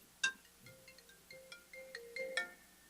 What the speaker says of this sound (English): Hold on, it's the emergency phone.